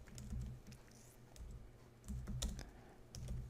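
A database name is typed on a computer keyboard while creating a Microsoft Access file: quiet, close clusters of keystroke clicks come in several short bursts with brief pauses between them.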